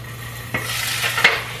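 Potatoes fry in a pan with a close, steady sizzle, broken by a few scraping stirs, with no talking.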